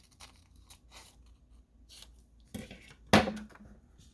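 Scissors snipping through paper to cut out faux postage stamps for a steampunk junk journal, a series of soft close snips and rustles ending in a sharper crunchy cut.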